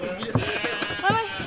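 Ewes bleat in short, close calls on a family sheep farm, several overlapping bleats in quick succession with a voice murmuring faintly beneath.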